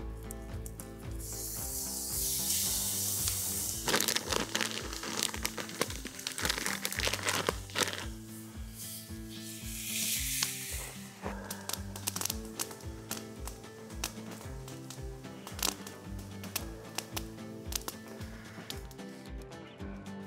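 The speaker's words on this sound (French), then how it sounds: "On a un beau haché d'orignal qu'on va venir se faire ici." Ground moose meat frying in a very hot pan outdoors in a forest, a steady crackling sizzle heard close up under background music.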